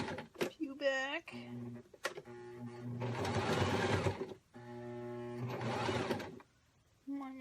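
A sewing machine stitches backward in short bursts on fabric for a tiered hammock, a rapid mechanical whir that runs for about a second at a time, alternating with the machine's hum and someone speaking in between.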